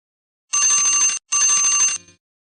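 Two bright electronic tones from a synthesizer app played on a phone, each held for under a second with a short gap between, ringing and bell-like, followed by a brief fading tail, alone and close.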